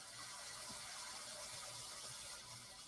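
Hot water running steadily from a household tap, a soft continuous broadband hiss with faint low gurgles, heard alone at close range.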